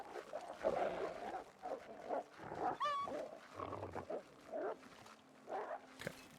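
Timberwolves in The Long Dark video game, on Interloper difficulty at Timberwolf Mountain, growl and bark in several uneven bursts with a rising whine-like cry partway through, over a rough ambient backdrop.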